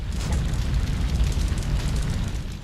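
Fire burns in the video game Shadow of Destiny, where a bar is ablaze, making a dense, loud, steady roar and crackle with a low rumbling body and no voices.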